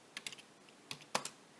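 Keys clatter on a computer keyboard in a few quick bursts of close, crisp clicks separated by short pauses, with no talking.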